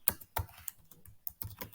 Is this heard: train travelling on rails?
no